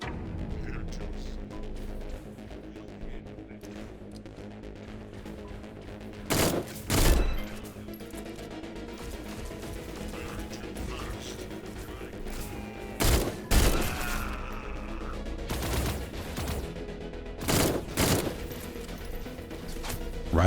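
Gunshots in the video game Echo Point Nova: several sharp, loud blasts in pairs and clusters ring out over a steady game soundscape of ambient music and mechanical hum.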